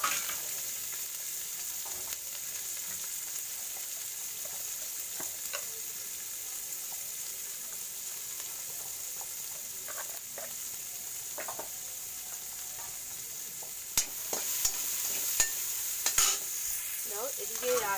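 Capsicum fries and sizzles steadily in a pan with rice while being stirred, a continuous hiss with scattered scraping clicks that grow louder and busier toward the end.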